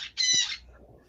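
Pet birds at home giving two loud, harsh squawks close by, the second longer, then quiet.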